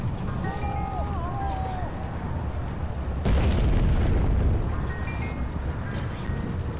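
Booming bomb blasts in the 2000 PC game American McGee's Alice, heavy rumbling bursts over a noisy game background, with one stronger swell in the middle, mixed with other game effects and a voice.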